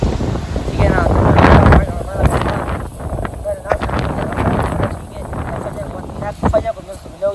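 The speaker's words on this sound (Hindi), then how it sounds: "ये हवा फुल तेज हवा खड़ी है" Strong, gusty wind during a violent storm roars as broadband rushing noise across the whole clip, buffeting the microphone, with someone talking over it throughout.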